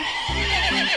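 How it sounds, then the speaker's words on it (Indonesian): A pony neighs close by, a loud whinny with stepped rising and falling pitch that runs through most of the second, heard alone without any talk. "Kuda poni."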